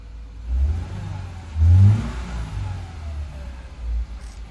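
The engine of a manual-transmission Subaru Forester cranks and catches, followed by a few low, throaty revs that swell and fade, close and moderately loud with no talking.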